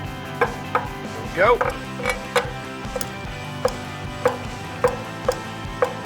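Knife chopping through soft charred mango with the core removed, on a board: a steady series of sharp, close taps at an unhurried, slightly uneven rhythm, with one brief louder scrape partway through and a short spoken phrase.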